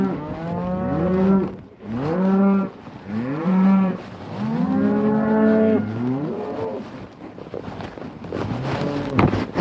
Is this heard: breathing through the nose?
no